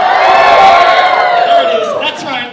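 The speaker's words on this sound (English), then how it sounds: "I got them to cheer" A convention crowd at furry opening ceremonies cheers loudly and continuously, whoops and shouts rising together, then fades slightly toward the end.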